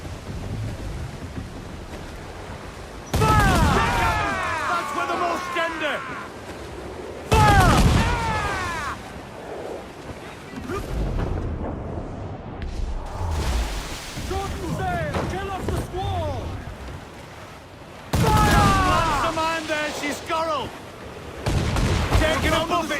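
Ship cannons firing in the naval combat of Assassin's Creed 4 Black Flag: a few loud, booming broadband blasts over steady wind and sea noise, with shouted voices in between.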